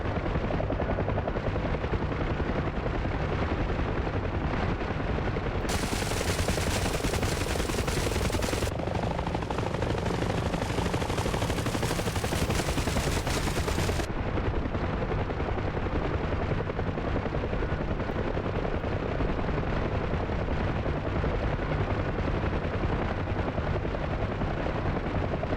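Door gunners aboard a DCS Huey helicopter fire sustained machine-gun bursts over the heavy, continuous rotor roar, the gunfire swelling louder through the middle stretch before easing back under the engine noise.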